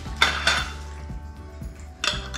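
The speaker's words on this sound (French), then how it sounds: "Maintenant on va passer à mettre les couvercles" Glass jars of forest honey getting their twist-off metal lids (TO 82 size) clicked into place, a few sharp clinks and clatters spread over a couple of seconds, close and clear with no talking.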